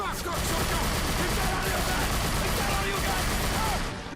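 Dense, continuous gunfire in the video game Scarface: The World is Yours, overlapping shots and explosions forming a loud, chaotic barrage throughout, with possible voices mixed in.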